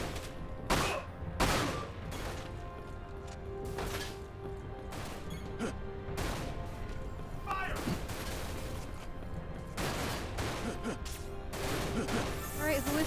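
Bursts of gunfire in the video game Dirge of Cerberus, repeated sharp shots and volleys scattered across the span amid game noise, loud and close.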